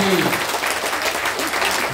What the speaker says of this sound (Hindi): आप ताली बजा दिए